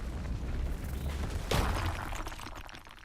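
A rock explosion spell blasts coal in the video game Dragonwilds, one sharp crashing burst midway through, over a low rumbling background.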